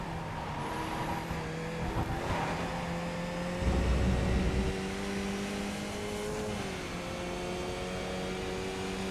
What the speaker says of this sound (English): Yeah, the tyres do make a bit of a racket